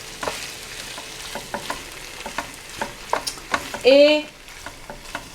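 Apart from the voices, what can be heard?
marinated beef frying in a sauté pan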